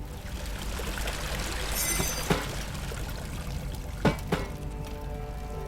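A bucket of water poured out in the horror video game Amnesia: The Dark Descent, a steady soft splashing stream with a couple of sharper knocks, fairly quiet and with no voices over it.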